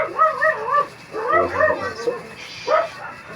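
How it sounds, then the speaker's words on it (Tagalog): A pet dog barks and yips at an unfamiliar person, a few short bursts close by in a home kitchen during cooking, with vocal whimper-like tones between barks. "Yung aking doggy may nakitang ibang tao."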